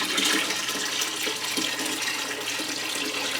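Water pours into a Marineland 5 gallon aquarium kit in a continuous rushing, splashing stream. It holds steady at close range for the whole span, with no voices.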